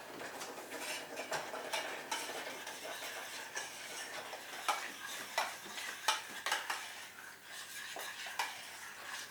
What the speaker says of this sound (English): I'm just going to mix that in with the stew and the mushrooms